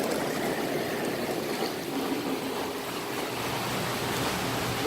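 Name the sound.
swim spa water jets switched by diverter valve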